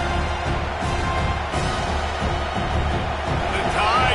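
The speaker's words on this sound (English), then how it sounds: "Crowd rolling noise down onto Saban Field on third down." Dense, steady crowd roar filling Saban Field stadium on a football third down, a continuous wash of distant voices and murmur with no single voice standing out.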